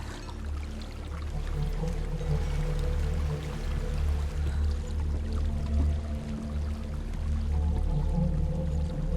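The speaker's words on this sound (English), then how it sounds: "There's a waterfall." A waterfall in the game Hellblade: Senua's Sacrifice, played on Xbox Series S, rushing in a steady, broad roar that stays constant and fairly loud throughout, with no talking.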